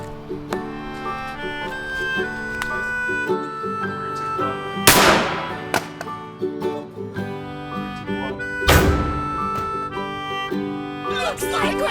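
A steering wheel airbag, from a Landcruiser, bursts open with two sharp, loud bangs several seconds apart, heard over continuous background music.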